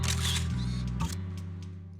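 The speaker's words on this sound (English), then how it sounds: "As you hit the shutter, the phone flash bursts" A phone camera shutter fires in Zenless Zone Zero with a short synthetic click and flash burst over a steady electronic hum, fairly close and clear, followed by a few faint ticks as it settles.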